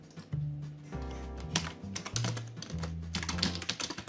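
Computer keyboard typed on at close range, irregular bursts of quick clicking keystrokes with brief pauses between runs.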